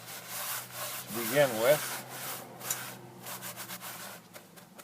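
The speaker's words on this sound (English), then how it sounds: "So I'm going to just take and rub this out real good" Rough scrubbing of grease out of a pan, repeated back-and-forth rubbing strokes with a brief squeaky scrape in the middle, close up, and a voice briefly speaking at the start.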